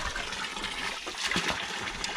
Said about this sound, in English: We've found the water fountain.